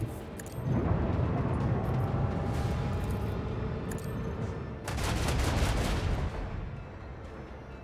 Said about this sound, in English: Fire the large batteries.